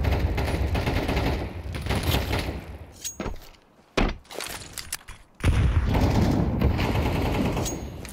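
Rapid automatic gunfire from a Mac 10 submachine gun in a Counter-Strike match on the Vertigo map, dense bursts filling the opening seconds, a brief lull with isolated thuds, then another sustained loud volley.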